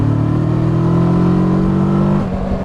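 A 2021 Kawasaki Versys 650 motorcycle engine hums loud and close while riding, a steady droning note that rises slightly in pitch, then eases off near the end.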